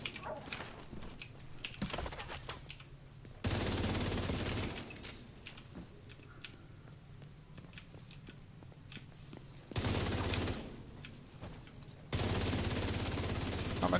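Bursts of heavy automatic gunfire in the shooter The Division 2, arriving in loud sustained volleys separated by quieter stretches of battlefield noise.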